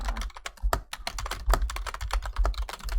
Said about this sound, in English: That's some aggressive typing.